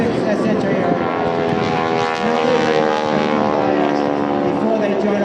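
Vintage World War II T-6 propeller aircraft flying at an air show at Jones Beach, a loud, steady engine drone with a broad rushing roar holding throughout, with a public-address voice talking over it.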